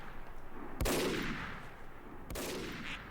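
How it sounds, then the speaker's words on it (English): Two sharp sniper rifle shots ring out in a Team Fortress 2 match, each a loud crack followed by a long fading tail, spaced about a second and a half apart. "We can have the snipers stop shooting now."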